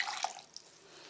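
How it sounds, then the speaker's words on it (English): Gelatine from a boiled pig's head, feet and tail strains through a cloth, giving a few quiet liquid drips and trickles, close and faint with no voices. "All I've got to do is strain it through a cloth"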